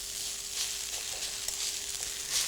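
Noodles and vegetables sizzle steadily in a high-sided fry pan for a warm noodle salad, a continuous bright hiss with small crackles and no voices.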